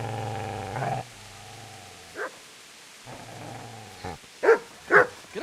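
A dog snarls and barks in Kingdom Come Deliverance, with a long low growl at the start, then more growling and a few sharp, loud barks near the end.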